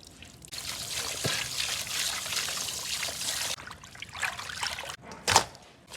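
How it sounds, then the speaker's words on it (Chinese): Boiling water pours over fresh beef tripe in a steady splashing stream, broken by a couple of short gaps and a brief sharper splash near the end, heard close and alone. "新鲜的大毛肚，开水冲一下"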